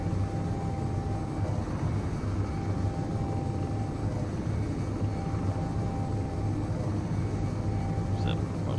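A video game aircraft drones with a steady, continuous engine hum while flying and banking, holding an even level throughout without a break.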